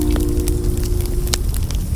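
A campfire crackles steadily with scattered sharp pops and snaps over a low, continuous hum, heard alone and at moderate level.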